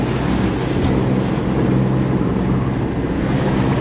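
A fisherman's boat runs at sea in foul weather near Komodo National Park, its steady engine drone mixing with constant wind buffeting and wave wash, loud and unbroken, with no voices.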